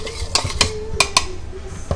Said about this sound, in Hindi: अभी मैं सबसे पहले ग्रीन को शामिल करके थोड़ा थोड़ा करके इसको मिक्स करूँगी